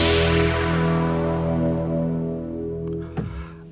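Deep held E note from a Studiologic Sledge synth bass patch mixing waveforms with noise. A bright, noisy attack darkens as the filter closes, and a faint knock sounds near the end.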